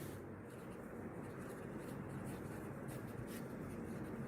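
A pen scratches steadily across paper as a polynomial is written out by hand, a soft continuous rubbing texture close by and fairly quiet.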